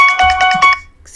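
A mobile phone ringtone plays a bright, repeating electronic melody in quick pulses, loud and close, then breaks off abruptly with a faint tail, no talk over it.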